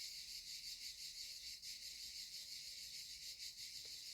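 Cicadas shrill in a continuous, steady drone, loud and close, with slight pulsing in intensity and nothing else competing.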